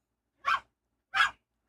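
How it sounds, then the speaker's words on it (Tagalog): A pet husky barks twice indoors in a bedroom, two loud separate barks with a short pause between them. "pasensya na kayo medyo maingay yung aw-aw ko dito sa loob ng kwarto"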